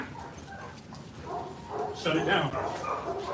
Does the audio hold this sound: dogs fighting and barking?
yes